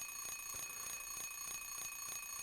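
Alarm clock ringing inside Silent Hill 3, a steady electronic beeping that repeats in rapid regular bursts roughly every third of a second, loud and continuous with no talk.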